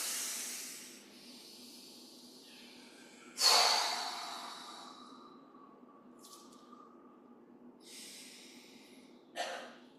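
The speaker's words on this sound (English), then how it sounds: "One more big breath." A big deep breath is drawn in and released in a hissing exhale, followed by softer airy breaths and a short sharp sniff near the end, close and quiet with no one speaking.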